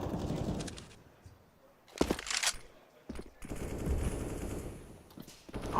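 Automatic gunfire rattles in a Counter-Strike esports match, with short bursts near the two-second mark and again a second later. The shots sit against a quiet, fairly faint game ambience with no talk.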